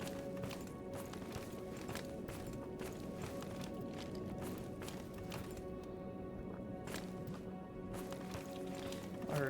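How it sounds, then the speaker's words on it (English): Footsteps in the video game Stalker Gamma: steady, rhythmic, fairly close thuds running through the whole stretch over a constant low ambient hum. "I heard footsteps."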